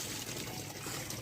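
Water pours onto plants during evening watering, a brief soft splashing trickle, fairly faint and continuous.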